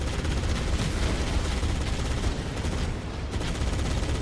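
Dense, continuous rapid gunfire from a shooter video game, loud and sustained for several seconds with no pauses and no talk.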